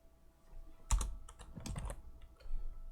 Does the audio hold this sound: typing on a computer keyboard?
yes